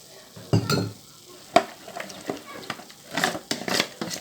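A spoon stirring green food colouring into a savoury mixture, giving intermittent close scrapes and clinks with soft gaps between strokes and no talk.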